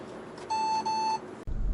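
The rear parking warning in a Hyundai Venue 1.6 gasoline compact SUV sounds one clear, thin electronic beep tone that lasts under a second with a brief wobble in the middle, then cuts off abruptly.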